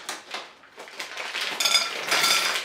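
M&Ms tipped into a mixing bowl make a rattling, pattering cascade of small hard candies that swells into a dense clatter, close by.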